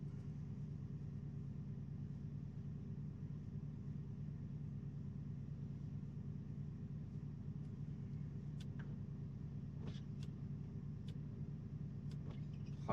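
Steady low rumble of a car driving on a wet road on recently changed tyres, continuous tire and engine drone from inside the vehicle with faint intermittent clicks near the end, no talking.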